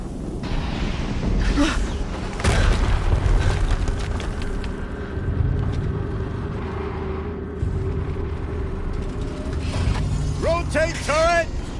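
Horizon Zero Dawn on New Game Plus Ultra Hard difficulty: a sustained roaring explosion rumble with mechanical clanking runs continuously and loudly, with a character's voice coming in near the end.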